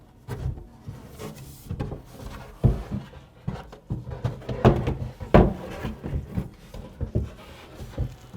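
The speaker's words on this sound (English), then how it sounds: "After the shelf pins are in, we will now install the actual shelf." Wooden shelf set into a cabinet on shelf pins for an ERB 36 lazy susan unit: a string of close knocks, taps and scraping wood-on-wood bumps at irregular intervals, moderately loud, with no speech.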